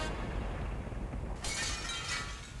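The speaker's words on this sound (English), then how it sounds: "Mooncalf jumped screaming through the stained glass window and began to climb the temple" Glass crashes and scatters at about midway through a stained glass window in Discworld Noir, a sudden bright burst over a steady low rumble that lingers as a shimmering spray of shards.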